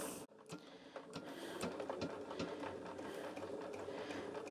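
A sewing machine sews a narrow base stitch, its needle clattering in quick, regular mechanical bursts. The sound is close and fairly quiet, with no voices.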